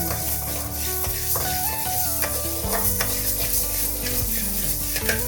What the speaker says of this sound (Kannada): ಎಣ್ಣೆ ಏನು ಬೇಡ, ಇದಕ್ಕೆ ಹಾಗೆ ಹುರ್ಕೋಬೇಕು.